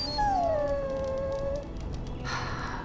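A dog in Dragon Age: Origins lets out a single long, falling whine, clear and close over a steady game background hum, followed by a brief hiss of ambient noise.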